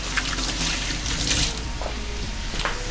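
Tap water runs steadily into a kitchen sink as hands are washed during cooking prep, a continuous splashing hiss with slight surges, close by and alone.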